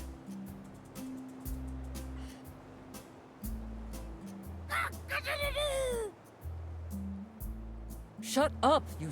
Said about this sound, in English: Shut up, you stupid bird.